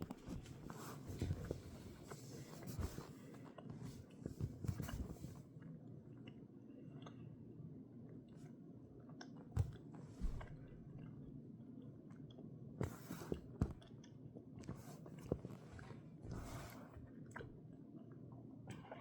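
Someone chews sweets up close: soft, quiet, wet smacking and squishing bites in an irregular rhythm, with a few sharper clicks, and no talking.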